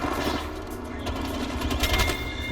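Mastiff shotgun fire in the video game Apex Legends, a dense, loud run of gunfire bursts mixed with other game sounds, with a voice talking over the shooting.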